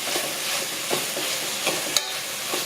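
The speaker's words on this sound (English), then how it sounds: "So I'm going to mix that all in." Colourful vegetables stirred in a sizzling pot for callaloo with plantain: a steady frying hiss with soft intermittent scraping strokes of the spoon.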